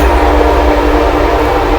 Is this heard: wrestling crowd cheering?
no